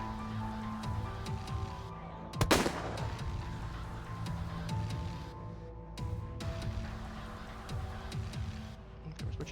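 A gun loaded with high power rounds fires in Resident Evil 2, one loud sharp shot cracking out near the middle over a steady bed of game ambience and music.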